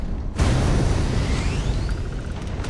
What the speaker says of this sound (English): Oh, I'm being shot at